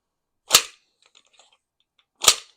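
Pistol magazine slammed into the grip during an emergency reload with the slide locked to the rear: two sharp metallic clacks about two seconds apart, with faint small handling clicks between them.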